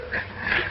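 A single short dog whine or yelp, close and fairly faint, from a 1936 film scene.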